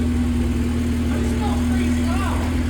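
A Honda Civic with a swapped-in 2.4L K-series engine runs steadily with only a bare manifold and no exhaust, giving a loud, raw, constant idle hum throughout, with voices talking faintly over it.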